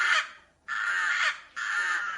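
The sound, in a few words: rooks cawing in an aviary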